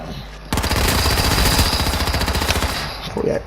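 Sustained automatic gunfire from a video game rattles in a rapid, loud burst lasting about three seconds before cutting off, with faint talk before and after.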